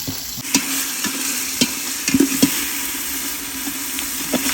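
Chopped tomatoes sizzle steadily in hot oil in a pan for chicken biryani. A spoon scrapes and stirs in a few light, irregular strokes over the constant frying hiss.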